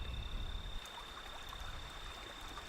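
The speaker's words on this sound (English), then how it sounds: "That is the trickling of water, the very sound of life itself." Water trickles in the desert as a quiet, steady, continuous babble with no voices over it.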